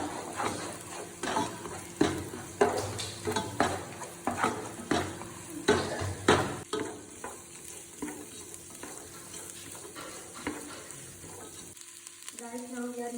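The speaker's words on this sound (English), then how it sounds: "now we are mixing cabbage and beans" Cabbage and beans are stirred and tossed in a hot pan for fried rice, a steady sizzle broken by rhythmic scraping strokes of the spatula, close and busy, fading toward the end.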